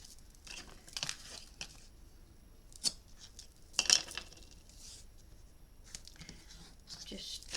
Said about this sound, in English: I've decided to put a bit of tape on there.